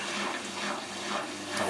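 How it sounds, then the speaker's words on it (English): A machine drum filling up with water, a steady rushing hiss of inflowing water that continues evenly and alone throughout. "This is still filling up with water."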